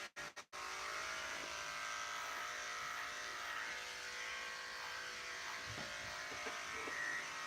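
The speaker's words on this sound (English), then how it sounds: "I'm going to open his ear so I can shave from right inside right here" Electric clippers buzz steadily inside the ear of a Shih Tzu–Maltese mix dog during grooming, a close, continuous hum that starts after a few quick clicks and runs without a break.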